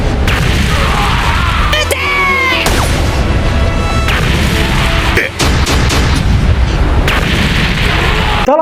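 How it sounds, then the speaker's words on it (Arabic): Three cannon shots striking their targets in a One Piece battle, heavy booms and crashing impacts stacked over a loud, dense action soundtrack with a voice speaking, continuous and forceful throughout. "3 طلقات مدافع اصابت اهدافها بالكامل"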